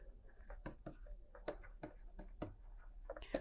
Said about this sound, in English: So I will write here.